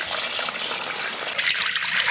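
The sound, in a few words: water pouring into a pot to soak beef bones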